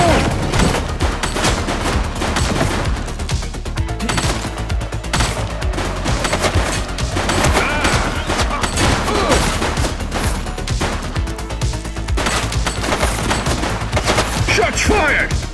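Rapid gunfire erupts in a police shootout in the video game The Precinct: dense, continuous bursts of shots and booms that sound like a fusillade, loud and unbroken throughout.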